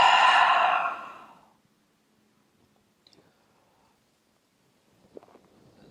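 A long, breathy exhale through the mouth during a yoga breathing exercise, loud and close at first and fading over about a second, then near silence with faint small rustles.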